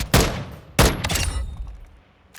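Two loud, sharp bursts of FTAC Recon hip-fire in Call of Duty Modern Warfare II ring out close, the second followed by a quick cluster of follow-up shots and a fading tail, then a faint late pop.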